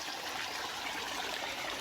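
A seasonal river running after heavy rain, a steady broadband rush of flowing water that stays constant and close throughout, with no voices.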